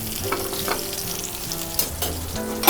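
A steak sears in oil in a pan and is turned as it cooks, a steady close sizzle with soft spattering pops and a couple of sharper clicks from the turning.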